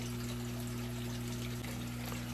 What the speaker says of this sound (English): having a pump going at the same time, circulating that water around